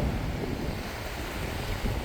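Surf washing onto an enclosed, shark-netted beach in Tasmania, a steady broadband roar of waves mixed with gusting wind buffeting the microphone, continuous and fairly close with no talk.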